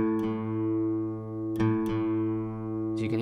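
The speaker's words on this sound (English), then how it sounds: "we're then going to go to the fifth fret, hold the string down, and we want the string beneath to sound exactly the same" Guitar strings sounding together as one string is fretted at the fifth fret and matched against the open string beneath while tuning. Sustained, steady tones ring with a few sharp plucks, close and clear, with no talking.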